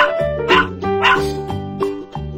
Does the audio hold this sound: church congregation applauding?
no